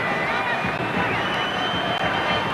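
A football stadium crowd at a Denmark v Scotland match sends up a constant, dense roar of murmuring and jeering, distant and even, with a commentator's voice faintly over it.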